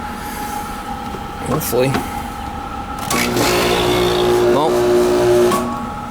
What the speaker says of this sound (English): Compressor started